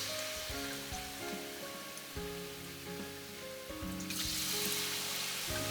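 Sliced lotus root frying in hot tempura oil gives a loud, steady sizzle with dense bubbling crackle that swells and brightens toward the end, close up.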